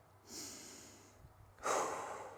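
A couple of audible breaths taken during a rest in a TRX mobility and strength workout, a soft inhale followed later by a louder, fuller exhale, close and without talk.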